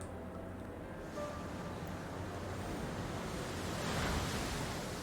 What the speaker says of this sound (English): And it's going to go with a Muddy Water.